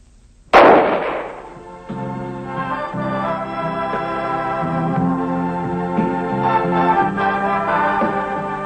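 A single sharp shot rings out at the 1978 ISSF World Shooting Championship in Seoul, followed by a sustained tonal hum and background music.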